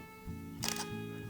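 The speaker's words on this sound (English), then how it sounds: "The mechanical shutter will take a picture" A Fujifilm X-T20 mechanical shutter fires once, a quick crisp double click over a faint steady background hum.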